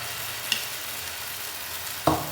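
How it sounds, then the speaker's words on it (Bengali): Potato pancake batter sizzles steadily in hot oil in a frying pan, a soft continuous crackle with two brief louder clatters of the ladle, no talking. "এবার তেল গরম হয়ে গেছে, আমি এই ব্যাটারটা এক হাতা করে এখানে দিয়ে দেব।"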